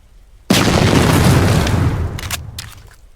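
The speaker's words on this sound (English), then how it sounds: "Now basically what that was just throwing grenades at the basket." A grenade blows up against a basket target in a video game: one sudden loud boom that rolls on for well over a second and fades slowly, with a few quieter crackles and pops trailing after it.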